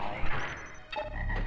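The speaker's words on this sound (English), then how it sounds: "Frog!" A frog croaks in Mega Man Legends 2, a couple of short, clear throaty calls over game background noise.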